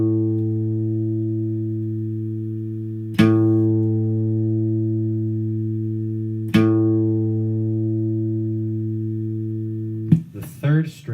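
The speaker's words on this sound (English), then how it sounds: "The second string, the A string, should sound something like this." Single guitar reference tone for the A string, a sustained note plucked three times at even intervals, each ringing and slowly decaying, close and clear, with a voice starting to talk at the end.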